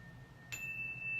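A single soft chime strikes partway through and then rings on as a clear, sustained tone over a quiet background.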